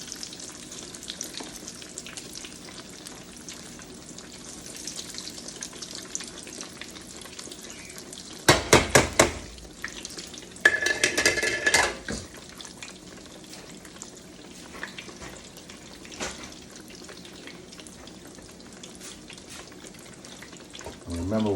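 Eggplant slices sizzle steadily in hot grease in a pan, a soft continuous crackle broken by a few louder bursts of clatter as the pieces are moved or turned.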